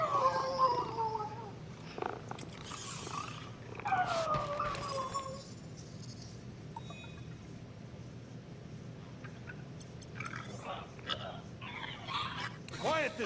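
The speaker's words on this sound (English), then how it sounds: "Quiet this cacophonous caterwauling" A cat yowls and caterwauls in the video game Marvel's Guardians of the Galaxy: drawn-out wavering wails rise and fall over game music and background chatter, with voices talking around them.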